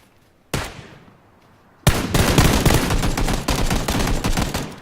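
Gunfire in PUBG: a single sharp shot rings out and fades, then a loud, sustained volley of rapid automatic fire, close and dense, with no talking over it.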